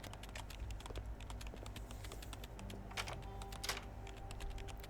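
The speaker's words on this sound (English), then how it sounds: "His slender fingers swiftly dance across the keyboard, producing a constant click-clack sound." Rapid click-clack of keyboard typing in the Love and Deepspace game, a steady stream of light clicks with no voices over it.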